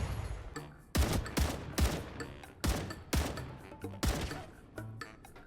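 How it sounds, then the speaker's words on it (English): Repeated gunfire from shooting in the video game Star Rupture, a series of sharp, loud shots in irregular bursts about once a second over a low game ambience. "when you're shooting something from this far away, your bullets turn into cotton balls"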